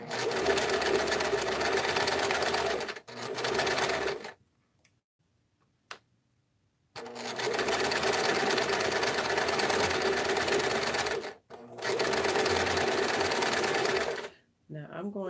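Domestic sewing machine stitching at a 2.5 stitch length, running in steady loud bursts with a pause in the middle, its fast mechanical ticking continuous through each run.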